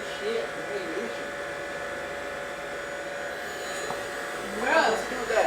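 A vacuum cleaner runs with a steady motorised drone while sucking up a big spider, people talking over it and a brief louder surge near the end.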